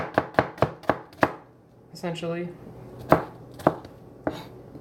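A knife chops small cabbage-like vegetables on a board, first a quick run of about five sharp, close strikes, then a short stretch of a voice, then a few more spaced cuts.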